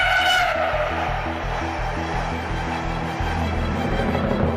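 A high-speed train running at around 125 km/h, heard from on board as a loud, steady rumble with a regular rhythmic clacking of wheels, continuous throughout.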